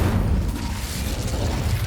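A fiery Incendio spell burst in Hogwarts Legacy, a loud rumbling whoosh of flame with mechanical crackle, sustained and fairly close for its short length.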